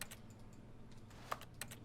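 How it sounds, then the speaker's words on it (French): Computer keyboard clicking in The Stanley Parable game, two or three sharp, faint keystrokes spaced apart near the end over soft room noise, no speech. "J'aime quand t'interagis, ça fait des bruits de clavier."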